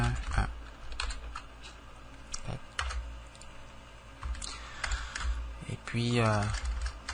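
Quick, close clicking keystrokes on a computer keyboard come in bursts while entering data in R Studio, with someone speaking French over part of the typing.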